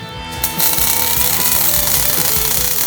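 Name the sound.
welding on a dagger billet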